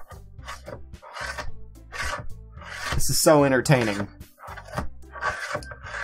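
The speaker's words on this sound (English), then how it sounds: "Sayori, who is idly dragging a rubber eraser up and down her desk" A rubber eraser drags back and forth across a school desk in a rasping, rubbing rhythm, mixed in with close talking throughout.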